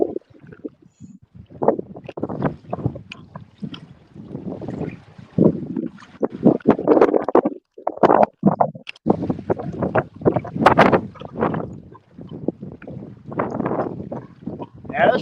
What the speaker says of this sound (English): this freaking wind is absolutely freaking brutal